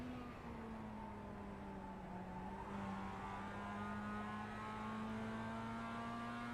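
A Mazda MX5 race car at Okayama, heard from onboard while braking and downshifting into a corner, its engine a steady loud drone with rising and falling harmonic tones and no talking.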